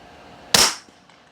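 A single suppressed pistol shot from a Stoeger fitted with a Banish 9 suppressor and firing subsonic ammo: one sharp, muffled crack up close with a brief tail fading quickly.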